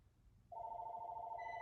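A telephone rings with a steady electronic tone that starts suddenly and holds at a moderate level in a quiet room, with no one speaking.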